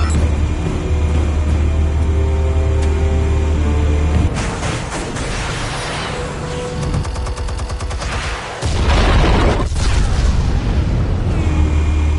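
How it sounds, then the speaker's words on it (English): Explosives detonate in the Batman Telltale video game: loud, deep booms and crackling blasts roll over a constant rumbling backdrop, with a heavy burst late in the sequence. "Explosives armed. Fire when ready."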